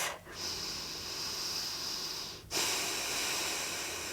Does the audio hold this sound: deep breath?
yes